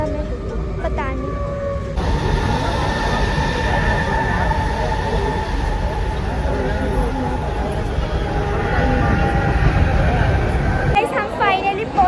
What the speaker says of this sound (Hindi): तो अब हमारी ट्रेन भी आई है जो हमने रिजर्वेशन में की थी